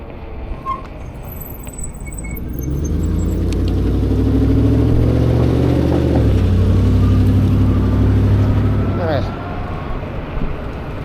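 Street traffic at night in Orange and Santa Ana heard from an e-bike: car engines rumble and pass close by, swelling to a loud drone in the middle and then fading, with people talking faintly at times.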